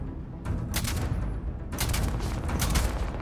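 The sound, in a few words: machine gun fire in the video game Starfield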